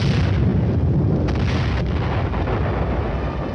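Tank gun fire striking and destroying a target during a Cold War battle exercise, a loud, dense, rumbling blast wash with heavy low-end roar sustained throughout, no voices.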